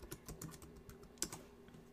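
Typing on a computer keyboard, a quick run of light, close keystroke clicks in an irregular rhythm, one louder tap near the end, quiet with no talking.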